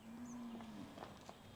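Cows and buffalo, undernourished livestock, moo in a low drawn-out call that slides downward, faint and slightly distant against background noise.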